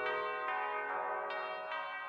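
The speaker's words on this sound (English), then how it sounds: "In March 1891, church bells heralded the 10th anniversary of Alexander's ascension to the throne." Church bells ring in Russia in 1891 to mark the tenth anniversary of Alexander's ascension to the throne, with rich overlapping tones struck roughly every half second and sounding fairly near.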